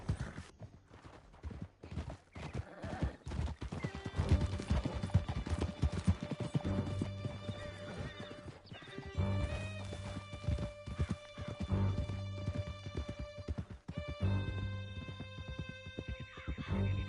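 Horses gallop in Red Dead Redemption, a rapid clip-clop of hooves running throughout with tonal music and game sounds layered over it, fairly loud and continuous.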